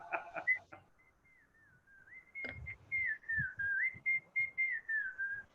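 A person whistles a jingle. Brief voice sounds come first, then a clear, close melody of rising and falling whistled notes in short, rhythmic phrases.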